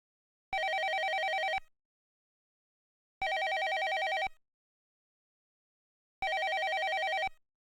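Three identical electronic telephone rings from Police Quest 1, evenly spaced at about three-second intervals, each a bright buzzing tone lasting roughly a second, clear and alone with silence between them.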